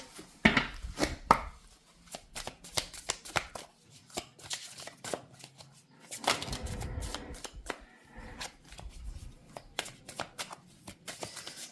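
Tarot cards are shuffled and drawn by hand, giving a steady run of quick crisp riffles and taps with a thicker flurry of shuffling midway, close and fairly quiet.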